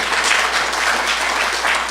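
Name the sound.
audience applause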